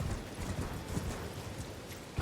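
Horse hooves clip-clopping in the video game Elden Ring, a steady galloping rhythm of soft low thuds that continues throughout, fairly close and evenly loud, with no talking over it.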